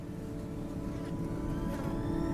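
A steady, low engine drone from an Empire spaceship overhead, a constant rumbling hum that holds even and slightly swells toward the end, with no voices.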